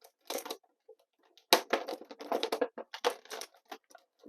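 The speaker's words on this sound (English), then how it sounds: "grab Ram Man out of the rather noisy packaging" A Masterverse Ram Man figure is pulled from noisy plastic packaging, giving crinkly, crackling bursts in uneven clusters with short quiet gaps, close and fairly faint.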